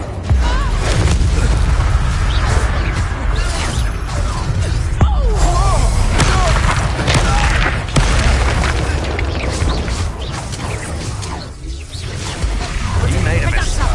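A Bombarda blasting spell explodes during a Hogwarts Legacy duel, with booming bursts and crashing debris piling up densely over continuous game music and effects, while voices talk over the fight throughout.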